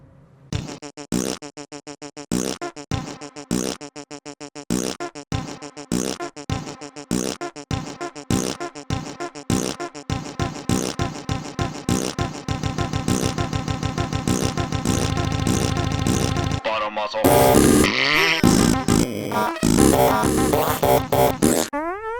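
A long run of fart noises, starting as separate sputtering bursts in an uneven rhythm, then merging into a sustained buzzing, rattling drone and ending in louder, harsher blasts, close and with no talking.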